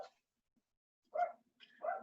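A pet dog at home barking twice, faint and somewhat distant, with a short gap of near silence between the barks.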